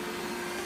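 A Rainbow vacuum cleaner runs steadily on a floor, giving a continuous loud whirring motor drone with a fixed hum, close and with no pauses, during an air purifier demonstration in Cape Coral.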